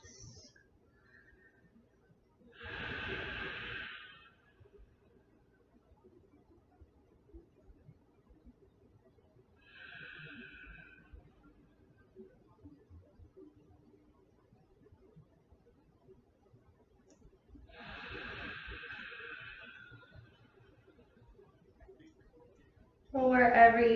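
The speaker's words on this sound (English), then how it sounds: "We're going to take 3 more belly breaths." Slow, deep belly breathing during a yoga session: three long, soft exhales spaced several seconds apart, close and quiet, with near silence between breaths.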